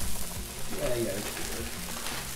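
Hash browns sizzling in olive oil on a Blackstone griddle, a steady, fairly faint frying hiss that holds evenly throughout.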